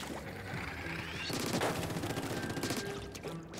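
Rapid bursts of heavy gatling-style fire from the Hydra Splatling in the game Splatoon, loud and continuous with splashy, watery textures and shifting intensity across the short stretch.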